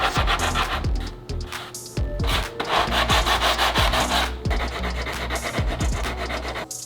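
A wooden dress side panel is sanded by hand in brisk, rhythmic back-and-forth strokes, a close, loud, coarse rubbing with repeated knocks as the sanding block turns direction.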